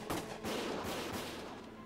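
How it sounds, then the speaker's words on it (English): Gunfire in the video game Valkyria Chronicles: a burst of dense, crackling shots at the start, then a sustained rattle of rapid gunfire at steady loudness for the rest of the two seconds. "Gunfire! Everyone, keep your heads down!"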